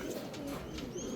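Pigeons cooing close by in a loft after a young-bird derby race, soft throaty coos rising over a quiet, steady background.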